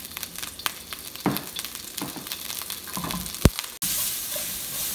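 Onions and spring onions sizzle in oil in a wok for a glass noodle stir fry. Close, steady frying hiss is broken by scraping stir strokes and a few sharp clatters.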